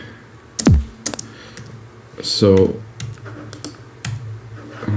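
Several scattered keystrokes click on a computer keyboard, with sparse, uneven taps close by while someone talks over them.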